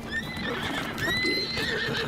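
A horse in the video game Breath of the Wild neighs loudly with rising and falling whinnies over a steady hum and faint hoof clatter, with no talk.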